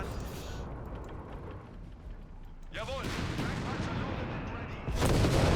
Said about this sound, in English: Bomb here. Ooh, the nasty incendiary rounds here.